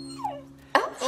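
A dog gives a short, high, falling whimper, then after a brief pause a louder yelping whine, both close and brief.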